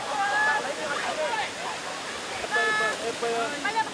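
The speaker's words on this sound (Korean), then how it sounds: "집에서 약 2시간을 달린 끝에 푸놈쿨렌 폭포에 도착했다" Phnom Kulen waterfall in Cambodia roars as a constant broad rush of falling water, heard under several people talking nearby.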